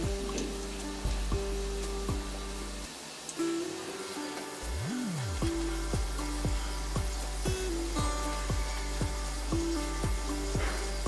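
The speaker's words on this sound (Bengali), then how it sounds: "গ্যাসের আঁচটা মিডিয়ামে রেখে আমি নাস্তাগুলো ভেজে নেব।" Flour-dough snacks frying in oil in a pan over a medium gas flame, a steady close sizzle running the whole way beneath background music.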